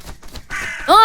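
A crow in the video game Daniel Dread 4 lets out a loud, raspy caw that rises near the end, preceded by brief muffled sounds.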